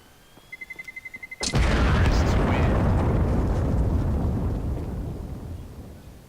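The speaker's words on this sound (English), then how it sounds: "I'm throwing a grenade." A grenade blows up in the video game Counter-Strike, a few quick beeps leading to one sudden loud blast whose roar slowly fades over several seconds.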